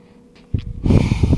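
A person breathes deeply during a stretching and splits flexibility routine: a short quiet inhale, then a louder, rough exhale close to the ear.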